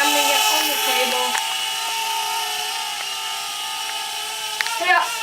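A Syma X20 mini quadcopter buzzes with a high, steady whine of small rotors as it flies and comes down to land on a table, the pitch shifting slightly before a brief knock near the end.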